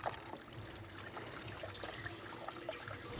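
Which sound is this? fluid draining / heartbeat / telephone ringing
fluid draining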